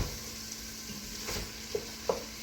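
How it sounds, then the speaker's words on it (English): Beef stew pan being deglazed, with a steady low sizzle and hiss of liquid hitting the hot browned bottom, plus a few soft stirring scrapes near the end. "It's called deglazing the pan."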